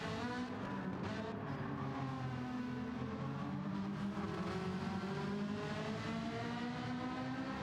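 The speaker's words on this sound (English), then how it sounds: "Great sounding car, isn't it?" A Gran Turismo 7 race car engine howls steadily and loudly through a continuous run on the Sardegna road course during an online league race, its pitch climbing and falling as it accelerates and shifts, with no talk over it.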